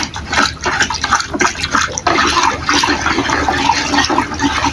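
Liquid is stirred vigorously in a bucket while silver is recovered from used imitation watch batteries. Loud, continuous sloshing and swirling is broken by brief dips as the stirring changes pace.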